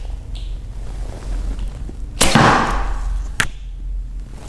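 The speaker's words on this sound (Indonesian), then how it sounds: "Sangat kencang ya, berhubung anak panah yang kecil dan ringan, jadi itu sangat-sangat cepat sekali" A small, light arrow launched through a majra arrow-guide from a bow gives a sharp whooshing snap, followed about a second later by a second crisp impact crack, both standing out against a steady low background hum.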